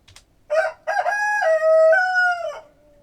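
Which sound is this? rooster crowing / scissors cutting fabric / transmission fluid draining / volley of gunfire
rooster crowing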